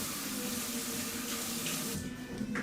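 Tap water runs steadily into a bathroom sink during a face rinse, a continuous close splashing rush, with a slight shift in the flow near the end.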